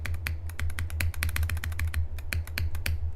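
A computer keyboard under test for a suspected fault with missed key presses, clicked in quick, uneven bursts of crisp keystrokes, close and alone over a steady low hum.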